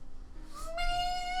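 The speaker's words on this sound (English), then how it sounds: "Ian's black cat." A black cat gives a single faint meow that rises and holds as a drawn-out tonal cry, heard close but quiet with no talking over it.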